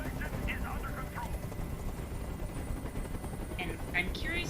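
A helicopter in a futuristic video game gives a steady low rotor rumble throughout, with short electronic chirps and tones sounding over it.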